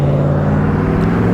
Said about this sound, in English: Sorry for the muffler noises. I'm just beside the road now.